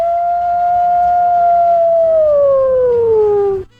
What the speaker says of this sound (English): So everybody, let's howl.